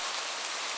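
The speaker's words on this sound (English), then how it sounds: "Rain" Steady rain falling, a dense continuous hiss of drops on a surface, even and moderately loud throughout with no voices.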